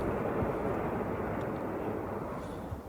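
A Russian IL-76 aircraft drones with a heavy, steady roar of low rumbling engine noise, continuous and loud throughout, with no voices.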